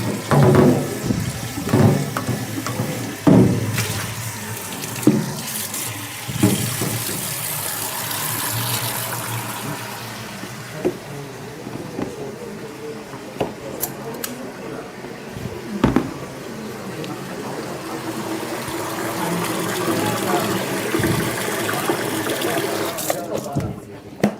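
Very warm water runs from a kitchen tap while something is rinsed out in a sink, a steady rushing stream with clattering handling noises, under and between bursts of talk from a person nearby.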